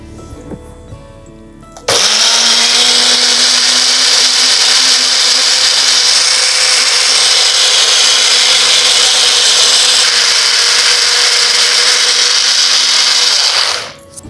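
A blender grinds sautéed Vadhanarayanan leaves with a little water, starting abruptly and running as one loud, steady, whirring drone for about twelve seconds before cutting off, with no talking.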